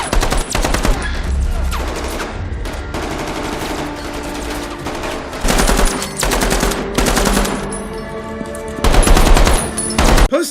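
Sustained automatic machine gun fire in a zombie-horror TV drama, loud dense bursts with swelling peaks near the end, layered over music and effects.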